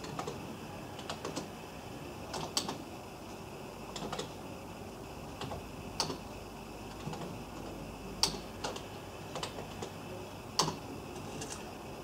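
Someone enters numbers into cells of an Excel spreadsheet on a computer keyboard, producing scattered, irregular key clicks at close range, quiet and sparse with short pauses between bursts.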